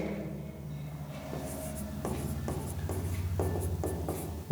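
A pen scratching across paper during a chemistry lesson, with steady close strokes that come in short repeated bursts.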